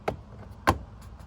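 A trim side piece on a 2006 Kia Sportage LX door panel is pushed back into place, giving two short plastic knocks about half a second apart, close and moderately loud over quiet background.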